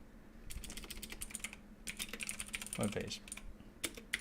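Rapid clicking keystrokes on a computer keyboard while a long comment is typed on a web page, coming in irregular bursts with short pauses, with a voice talking over part of it.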